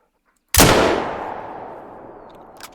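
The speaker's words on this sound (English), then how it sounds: "Two shots. That's all I can get." A single loud rifle shot cracks out after a moment of silence while hunting grizzly bear in Hunter: Call of the Wild, followed by a long rolling echo that fades over two seconds.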